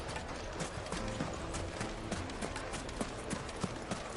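Horse hooves clip-clopping at a steady trot in Final Fantasy XVI, a regular rhythmic patter of close, clear hoofbeats over a busy background bed, continuing throughout without speech.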